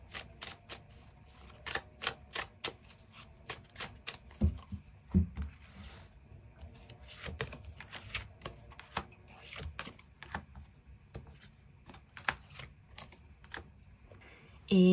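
Tarot cards being drawn and shuffled for a love reading, with dense, rapid papery clicks and snaps up close, steady through the whole stretch with a louder thump at the very end, and no talking.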